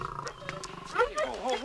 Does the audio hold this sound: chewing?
no